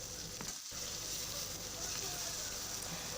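Onions, green chillies and tomatoes frying in a pan for egg curry give off a steady, close sizzle with a soft hiss that persists throughout, and a brief stir or clatter early on.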